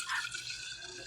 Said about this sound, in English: we're going to pour the rest of this back into this original jar